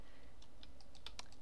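Faint computer keyboard typing, a handful of light, irregular keystroke clicks over a quiet background hum.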